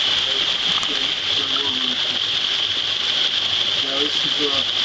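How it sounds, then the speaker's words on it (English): Water flows through rock into a small waterfall as a steady, continuous rushing hiss that stays even throughout, with a faint murmur of talk beneath it. "Now this is water flowing through the rock. There's a little waterfall underneath."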